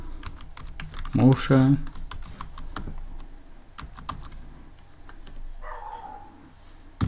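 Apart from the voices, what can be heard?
typing on a computer keyboard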